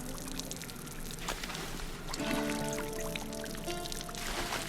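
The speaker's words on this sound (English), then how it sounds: "Let's go ahead and water." Water pours and trickles steadily as crops are watered in the video game Runescape Dragonwilds, a soft continuous splashing with faint game tones underneath.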